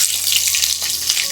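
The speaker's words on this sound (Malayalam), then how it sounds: "ഇനി ഇതിലേക്ക് ചേർത്ത് കൊടുക്കുന്നത് 20 അല്ലി വെളുത്തുള്ളി അല്ലികളാണ്" Twenty garlic cloves sizzling in hot oil, a loud, close, steady crackle and hiss throughout this short moment.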